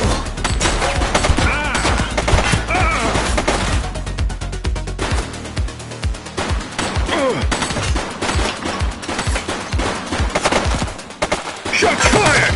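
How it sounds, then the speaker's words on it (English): Sustained, loud gunfire in the police video game The Precinct, with rapid automatic bursts and dense overlapping shots that run continuously under a faint voice. "Shots fired!"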